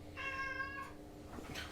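A cat meows once in a closet in Phoenix Wright: Trials and Tribulations, a clear, drawn-out cry over steady low background hum, followed by faint rustling.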